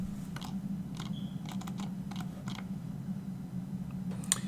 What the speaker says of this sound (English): It's not a mechanical keyboard, but it is very, very, very close to the microphone